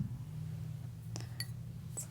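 Glass of water handled on a hard surface, with a few distinct light clinks and taps over a steady low hum, close and alone.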